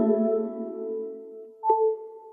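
The futuristic iOS 11 'Engage Power' wireless charging sound on an iPhone 8: a layered synthetic tone swells and sustains, then a bright ping lands near the end and rings out cleanly, heard alone with no talk.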